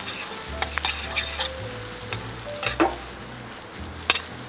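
Chili cereal prawns fry in butter and oil, with a steady sizzle broken by sharp crackles and pops, over a low hum from the kitchen.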